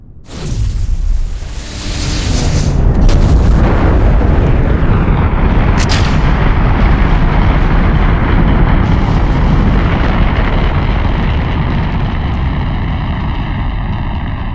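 Simulated F1 rocket engines igniting at launch in Kerbal Space Program, a sudden loud roar that swells within a second into a sustained, heavy broadband rumble holding steady to the end.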